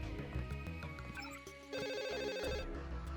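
A telephone rings in Deus Ex, a repeating electronic trill under busy, loud game music that keeps going throughout.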